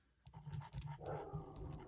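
A pet dog named Misha barks indoors, a quick series of four or five short, fairly faint barks at an uneven pace over low background noise.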